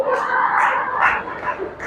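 A dog yips and barks outside a church during a Sunday service in Pune, giving several quick, whiny barks over a dense, steady wash of background noise.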